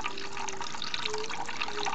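Water poured slowly into flour for a sourdough starter, a steady trickling splash that runs continuously, close and fairly loud.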